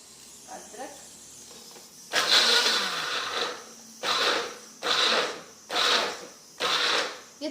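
A blender grinds garlic and ginger into paste in a home kitchen, starting with a long whir and then running in four short, loud pulses separated by brief pauses.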